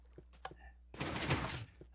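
A door opening in the Minecraft video game, heard as a short wooden thunk followed by a brief noisy rush, fairly quiet, with a few faint clicks just before it.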